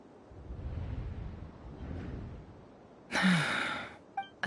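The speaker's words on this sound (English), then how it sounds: "I heard Yehuda gasp" A character in the video game Genshin Impact gasps with a sudden loud, breathy intake that follows a soft windy hush, trailing off before a brief click.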